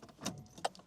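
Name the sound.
unlocking Mercedes-Benz 190E car lock with key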